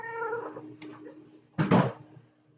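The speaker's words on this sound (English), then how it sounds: "Cat again." A cat meows nearby: a drawn-out, wavering call, then a short chirp, then a louder, rougher yowl, with nobody talking.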